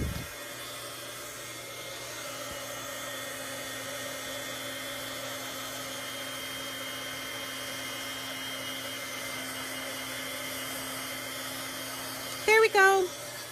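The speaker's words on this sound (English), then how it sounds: "I'm pulling out my heat tool so I can make this dry." A heat tool blows a steady whirring drone across a craft project for many seconds, loud and close, with a few brief clicks and squeaks near the end.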